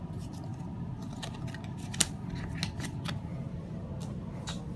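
Playing cards from the Trekking National Parks board game are drawn and handled, giving soft, close snaps and slides in a loose irregular sequence over a low, steady room hum.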